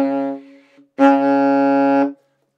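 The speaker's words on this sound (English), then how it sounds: "If I was to close all the holes on the saxophone, it makes the lowest note." Alto saxophone sounds its lowest note, B flat, with all holes closed: a short held tone, then a brief gap and a longer, louder, full-bodied sustained note, close and solo.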